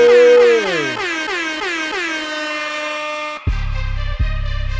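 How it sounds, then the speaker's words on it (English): Several air horns blast loudly in a sustained, overlapping chord, pitches sliding downward, then a booming low-end hit follows with a second thud near the end. "We got multiple air horns on the way in."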